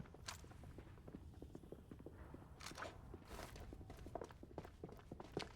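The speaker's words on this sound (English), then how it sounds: "They're flanking, I think. I hear footsteps." Footsteps of flanking enemies in the video game FragPunk patter faintly in a quick, steady run of soft thuds, with occasional sharper clicks and no voices over them.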